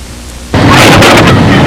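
Heavy rain on a Sunday in the town of Souderton, starting abruptly after a quiet moment and then pouring steadily and loudly, a dense broadband wash with a low rumble underneath.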